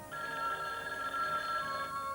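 An old telephone bell ringing, one continuous bright, trilling ring of about two seconds, loud and close, with no talk over it.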